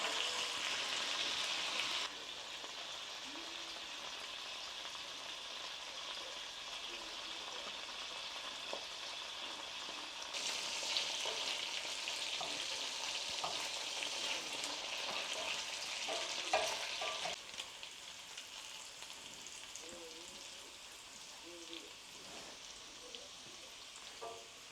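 Steak and vegetables sizzle steadily in a hot pan, a dense continuous frying hiss with brief stirring clatters, growing louder midway and easing slightly toward the end, no voices.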